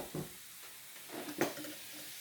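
Bicarb of soda, about a teaspoon, fizzes and foams in a liquid solution for homemade reusable wet wipes, giving soft hissing crackles with a few brief, close bursts of bubbling.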